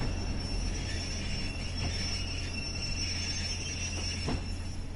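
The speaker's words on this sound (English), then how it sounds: "a train! Finally, I can get off the spooky platform." In the Train Sim World 5 game, a train arrives at a platform with a steady low rumble, thin high wheel squeal and a couple of soft rail clunks.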